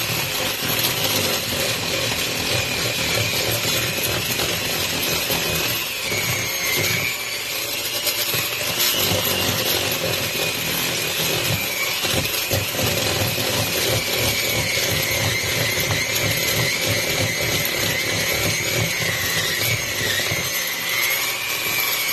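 An electric hand mixer whirs steadily at high speed while chocolate pudding is being mixed for a slow cooker, a loud, continuous motor drone with slight shifts in pitch and rattly beater noise, running alone without talk.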